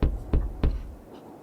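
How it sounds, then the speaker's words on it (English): Three firm knocks rap on a pair of doors at a steady pace, close and fairly loud, the last one trailing into a short quiet decay. "Atane rapped on the doors."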